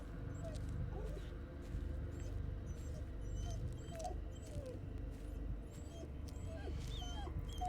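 An injured dog in the Blair Witch video game whimpers and yips in repeated short, high whines over a low steady background rumble, fairly close and plaintive.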